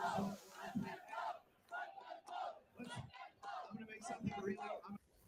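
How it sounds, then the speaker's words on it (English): A crowd at a Young Republican convention chanting a rhythmic slogan in unison, with loud, repeated bursts of massed voices in a steady cadence separated by brief gaps. "crowds breaking out and let them vote chants"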